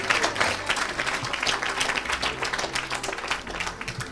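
A church congregation bursts into applause, many hands clapping in a dense, steady patter for several seconds at moderate volume, with faint voices mixed in.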